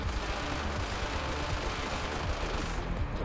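Dense, continuous bullet fire from a boss fight in a Nintendo Switch shoot 'em up game, a loud, unbroken wash of rapid shots and blasts with no talking.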